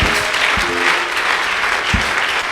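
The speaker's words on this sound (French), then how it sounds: "Can we clap for the Lord?" A church congregation breaks into loud, steady clapping for the Lord, dense rhythmic applause filling the room with a few sharper claps standing out.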